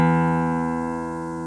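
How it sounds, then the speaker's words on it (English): A single note picked with a plectrum on the top E string of a guitar rings out clearly and alone, sustaining with a slow, gradual decay. "You take your pick and just go down. And just make a solid sound with the top E string."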